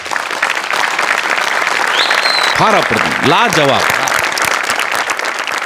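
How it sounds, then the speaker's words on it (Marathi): A theatre audience at a comedy skit performance claps in sustained, dense applause, loud and steady throughout, while someone speaks over it in the middle. "या सगळ्यांसाठी एकदा जोरदार टाळ्या व्हायलाच पाहिजेत"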